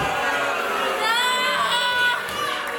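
A female wrestler screaming in pain while caught in a submission hold with a knee driven into her back at a pro wrestling show, high strained cries rising over a steady crowd roar in the arena.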